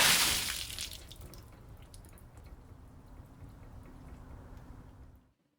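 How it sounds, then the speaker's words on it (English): Water gushes and splashes in a fantasy adventure game, starting with a loud rush that settles into a steady, softer wash of churning water before cutting off abruptly, with no talking. "Okay, where did the water come from?"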